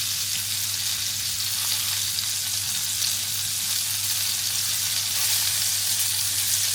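Thin cod cheeks frying in a pan, a steady loud hiss and crackle of hot oil that holds evenly throughout with no voices.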